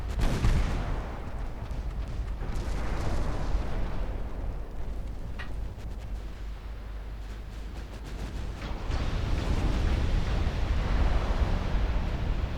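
Naval main and secondary guns fire in Ultimate Admiral Dreadnoughts, heavy booming salvos rolling over a continuous roar of sea and battle noise, with sharper reports scattered between the louder swells.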